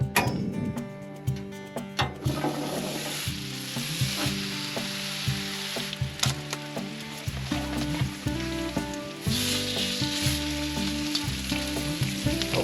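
Lamb rib roast with butter and seasoning sizzling loudly on a grill, a steady crackling hiss running throughout with scattered pops and ticks.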